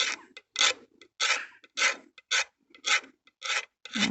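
A blade scrapes varnish off the wood veneer of a classic car in about nine steady, rasping strokes, each a close, dry scratch separated by short pauses.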